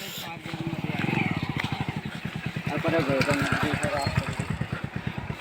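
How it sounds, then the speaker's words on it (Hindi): A motorcycle struggling along a muddy village road, its engine chugging and revving as the wheels slip, close and fairly loud, with someone talking over it. "और ये देखिए मोटरसाइकिल कैसे निकल रही है। ये फिसल रही है क्योंकि रास्ते ख़राब हैं।"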